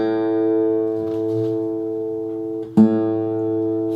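An acoustic guitar's open A string sustains steadily with its sound hole uncovered and the pitch sagging flat, a single clear tone with a brief knock near the end and no talking.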